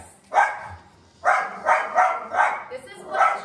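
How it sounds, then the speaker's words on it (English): Several sharp chihuahua barks ring out close and loud in quick bursts, a lone one followed by a rapid string of four more. "This is what chihuahuas do. They bark at everything and everybody."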